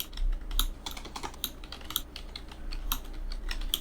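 Fingers tap rapidly on a computer keyboard nearby, an uneven run of clicky keystrokes over a faint low hum with no voices.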